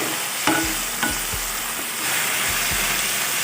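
Food fries in hot oil in a pan, a steady sizzling hiss broken by a few scraping stirs of a spatula, close and loud with no talking.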